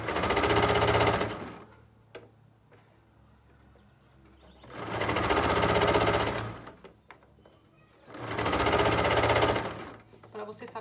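A sewing machine stitches a small fold of fabric for a bag holder made with a plastic jug, running in three rapid bursts of about two seconds each, separated by quieter pauses with faint handling noises.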